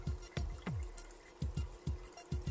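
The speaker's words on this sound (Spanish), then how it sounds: "Primero vierte los 750 mililitros de agua destilada dentro del bol." Distilled water pours into a bowl in a series of close, distinct glugs and splashes, each a short gurgling burst, with no talk over them.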